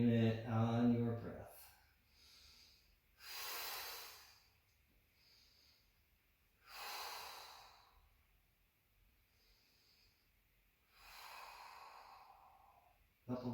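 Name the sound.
slow breathing during a yoga flow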